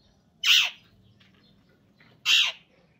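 A pet myna bird gives two loud, sharp squawking calls about two seconds apart, each brief and harsh, close by over a quiet low background hum.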